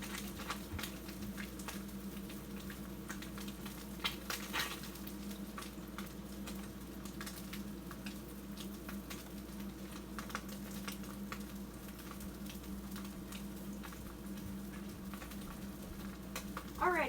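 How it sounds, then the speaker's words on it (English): Meat fries in a pan with a steady soft sizzle and scattered crackling pops, faint and continuous, with no voices. "I can put it on the pan after my meat is finished frying"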